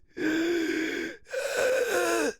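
A voice imitates a ghost's horrible wheezing breath, giving two long, rasping, strained gasps in close succession, loud and close with a short pause between them.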